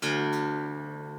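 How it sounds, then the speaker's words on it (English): The low string of an acoustic guitar, tuned down to D, is plucked once and left to ring out, a single bright attack fading smoothly over about a second. "we're going to take our low E string and we're going to drop it to a D"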